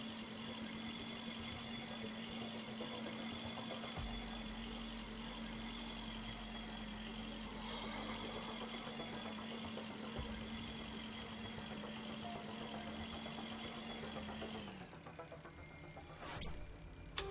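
Spacecraft engine running in the video game Breathedge, a steady droning hum with a sustained low tone that drops away near the end before a brief click, no speech.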